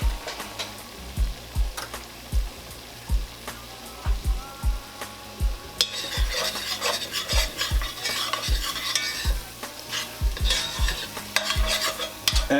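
Flour for short ribs cooks in a pan, stirred in rhythmic scraping strokes about every half second. A low sizzle swells into louder, crackling frying partway through, all close and with no talking.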